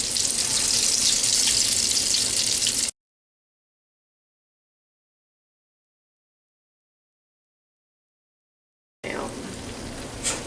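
Hushpuppies sizzle loudly in hot frying grease, a dense steady crackle for a few seconds, then silence, then the frying hiss returns near the end.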